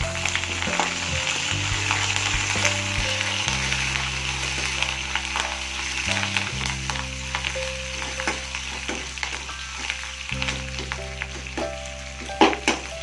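Spices, grated ginger and curry leaves frying in hot oil for tempering tomato dhal, a continuous loud sizzle with crackles and spoon stirring, alone with a low steady hum beneath.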